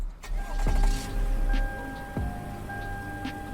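A 1999 Velfire Riptide in the Greenville game cranks and starts, its engine catching and settling into a steady idle with a sharp falling whine and a few clunks from the car, close and with no speech.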